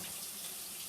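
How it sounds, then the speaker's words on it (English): Tap water runs steadily over shiitake mushrooms being rinsed, a soft, even rushing splash close by with no talking. "I wash the mushrooms, rinse them"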